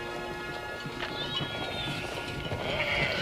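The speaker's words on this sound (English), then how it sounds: "The cattle and sheep." A flock of sheep bleating at a moderate distance amid a busy crowd of people and cattle setting out, with hooves and murmuring around them.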